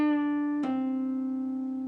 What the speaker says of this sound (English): we bend the 7th fret of the G up a full step, then we pick it, we bring the note down